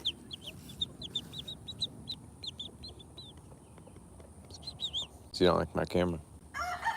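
Chickens clucking and chirping softly on a rare fruit farm over a low outdoor background, with someone speaking briefly up close partway through.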